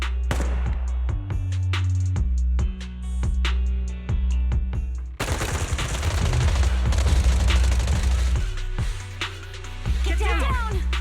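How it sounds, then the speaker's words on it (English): Rapid bursts of gunfire in the video game Zenless Zone Zero, sharp repeated shots in quick volleys, loud and close, with brief pauses and some voices in between. "Gunfire?"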